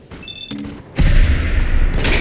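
Gunfire in Fallout 4, a heavy burst of shots and booming impacts starting abruptly after quieter game sounds and short electronic tones, staying loud and dense to the end.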